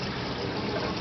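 Steady broadband rush of water flowing from a pump through aquaponics plumbing, close and continuous without pauses or voices.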